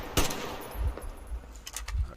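An AK-47 fires in a video game, with several sharp shots and short bursts spread unevenly over a low, rumbling game background, heard at moderate loudness and with no talking.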